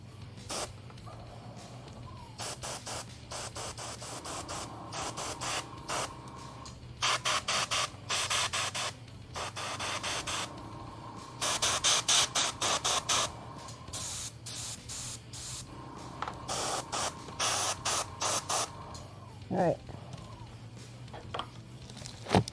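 An aerosol can sprays paint onto a miniature figure from The Young Miss by Metal Oak Casting Studios in repeated hissing bursts of a second or two, close, with brief pauses and no talk.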